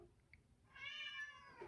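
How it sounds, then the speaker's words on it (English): Indoor cats meowing, a single drawn-out plaintive meow, faint and fairly close, in an otherwise quiet room. "Now they're both meowing."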